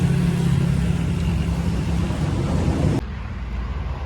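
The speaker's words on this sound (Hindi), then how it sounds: "लो जी, ट्रेन अभी यहाँ से गुजरी है।" A train passes Ghungrila Railway Station on the G.T. Road in Pakistan with a loud, close, broad rushing rumble that cuts off abruptly into quieter wind-like noise.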